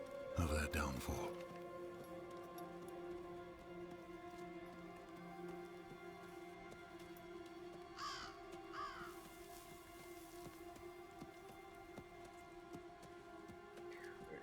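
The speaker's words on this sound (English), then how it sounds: "It's cold and there's a crow." A crow caws a few times in the cold, fiery-skied game world of Diablo 4, heard fairly clearly over a steady droning ambient score and wind.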